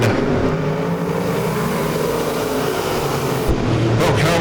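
Race cars in a heat race at Lake Ozark Speedway roar continuously, loud and close, engines droning with steady revving as the pack battles for position, with a brief surge near the end.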